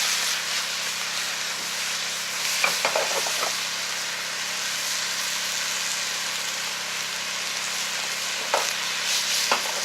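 Venison heart and liver fry at medium heat in a pan, making a constant close sizzle with occasional crackles and spatters, nobody talking.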